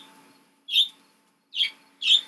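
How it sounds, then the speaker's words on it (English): Pet birds chirping indoors, three short bright calls spaced apart, fairly close and moderately loud with quiet gaps between them. "My birds like to chirp chirp every day of their little lives."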